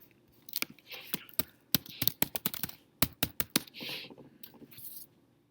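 Typing on a computer keyboard, close and crisp, in irregular bursts of rapid keystrokes separated by brief pauses, with soft breathy vocal sounds between some of the bursts.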